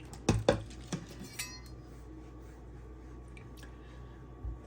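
A chef knife scrapes and clinks against a fine 8000-grit Naniwa Hayabusa whetstone, a few sharp taps and strokes at the start, then a quieter steady scraping, close and faint with no talk.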